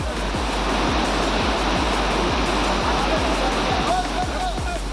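Rushing floodwater current during heavy rain, with a loud, steady broadband roar of surging water and faint rhythmic low thumps underneath, continuous throughout.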